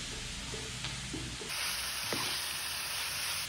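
Hakurei turnip greens sizzle and fry steadily in a hot pan, a continuous close hiss that grows brighter and louder partway through, with a faint stir or tap.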